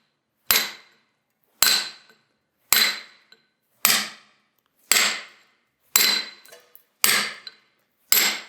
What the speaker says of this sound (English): So it's always striking on the chisel.